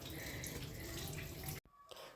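Dishes are washed at a kitchen sink under a running tap, with a close, steady rush of water that cuts off briefly and then resumes more faintly.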